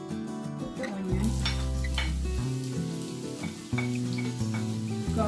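Onion sizzling in plenty of olive oil in a pan while cooking pasta with cherry tomatoes. A continuous crackling sizzle with faint stirring clinks runs under loud background music throughout.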